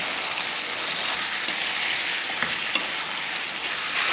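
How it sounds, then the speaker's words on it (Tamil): Marinated chicken and onions fry in a pan, giving off a steady, close hiss of sizzling with a few soft clicks as the pieces are stirred. "இந்த டைமில் நம்ம மசாலா தடவி வச்சுருக்கோம் இல்லையா, சிக்கன் அதே சேர்த்துடலாம்"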